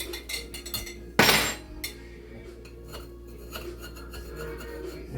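A cast iron skillet holding a crustless Swiss chard quiche is lifted and set down with one sharp metallic clunk near the start, followed by light scraping and clinking against a plate, close and moderately loud.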